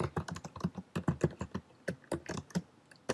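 Fingers tap steadily on a computer keyboard in irregular bursts of crisp clicks, with firmer presses like the Enter key standing out among the keystrokes.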